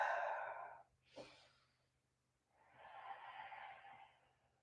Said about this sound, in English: Keep breathing.